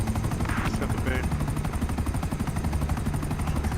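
A helicopter in a game, with the low rhythmic rotor chop running steadily underneath dense game sounds, some bursts of gunfire and voice chatter.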